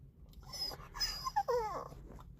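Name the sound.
dog whining and crying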